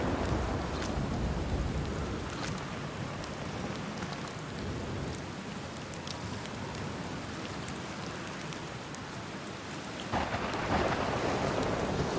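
A thunderstorm in the video game Outer Wilds: heavy, continuous rain hiss over a low rumble of thunder, with a brief high tone partway through.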